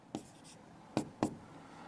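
Chalk strikes and scrapes on a lecture board during a maths class, three short distinct strokes, faint and close, with a quiet pause between the first and the last two.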